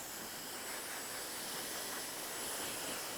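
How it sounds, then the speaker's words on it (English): A hair dryer blowing air through hair, a steady faint broadband whoosh held throughout with no breaks or voices. "So I'm actually blow drying the hair in the direction that it would, in your case, a human, naturally grow"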